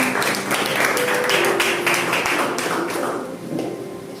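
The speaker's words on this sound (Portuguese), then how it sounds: "Aplaudam ao Senhor e podem se assentar." Church congregation applauding, a dense burst of many hands clapping that gradually thins and fades, with faint voices underneath.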